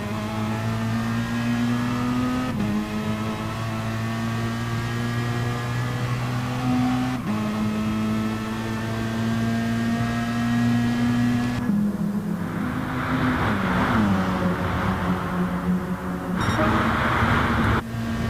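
Video game race cars rev their engines in a steady droning whine that rises and falls in pitch, running continuously and loud before shifting to a rougher, noisier roar with brief sharp bursts near the end.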